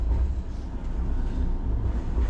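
A Caracas metro subway train runs with a steady, loud low rumble and continuous rolling noise from start to end, with no pauses or talking.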